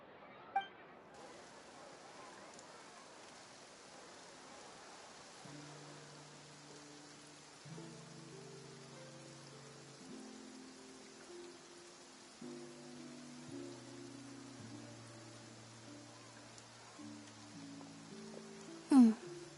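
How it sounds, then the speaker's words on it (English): Steady soft hiss of rain falling in Genshin Impact's Fontaine region, continuing throughout with game music tones entering partway and a brief clink near the end. "Looks like rain."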